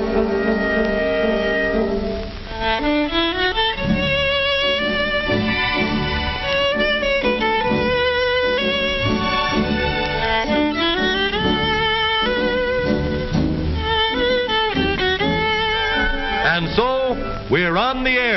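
A solo violin, a Stradivarius, plays a flowing, expressive melody with sliding notes and vibrato, loud and continuous, ending in swooping phrases.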